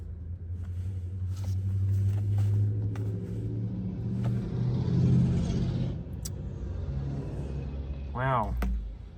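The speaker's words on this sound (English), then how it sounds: "some people in some old-timey cars just drove by going for a Sunday drive" Old-timey cars driving past on a Sunday drive, a rising and fading engine rumble that swells over several seconds, with a sharper whine and rumble near the end.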